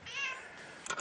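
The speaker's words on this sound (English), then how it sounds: "Hello, kitty." A house cat meows in a long, drawn-out call lasting about a second, close and fairly loud, with a brief second chirp right at the end, indoors among photographers at work.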